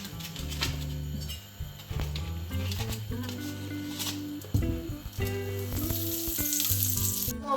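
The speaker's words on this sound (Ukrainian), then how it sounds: "сковорідку на плиту починаємо смажити печінку" Liver sizzles and crackles steadily as it fries in sunflower oil in a hot pan, with low background music playing underneath throughout.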